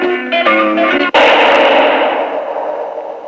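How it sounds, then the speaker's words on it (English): Gunshot that kills Harry Lime in The Third Man: a few brief musical tones, then one sharp, loud shot followed by a long, echoing reverberation that slowly fades. "That was the shot that killed Harry Lime"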